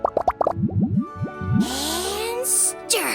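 Ingredients such as lizard tails, fish scales, mucus and slime condensate plop one after another into a drink in the game Genshin Impact, a quick run of bubbly cartoon splashes followed by sparkly magical whooshes and chimes.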